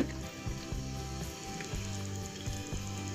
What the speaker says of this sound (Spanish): aquí ya está hirviendo nuestra agua